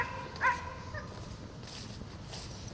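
Dog on a hike gives a single brief yelp or whimper at a distance, faint over outdoor background noise.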